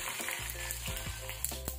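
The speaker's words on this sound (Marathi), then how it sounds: "अगोदर तेल छान गरम झालं की त्यात आपण मोहरी घालणार आहोत 1/2 चमचा आणि 1/2 चमचा जिरे. हे छान तडतडून द्यायचंय आपल्याला." Mustard seeds and cumin crackle and sizzle in hot oil for a tempering, a dense close frying hiss with scattered sharp pops throughout.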